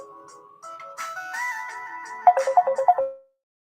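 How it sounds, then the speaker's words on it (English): A phone rings with an electronic melodic ringtone for an incoming call, tones stepping upward and then a quick run of repeated bright notes before cutting off abruptly into silence. "I had to take that phone call"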